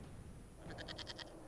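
A goat in a fantasy role-playing video game lets out a short, faint, pulsing bleat of several rapid wavering beats against quiet background ambience.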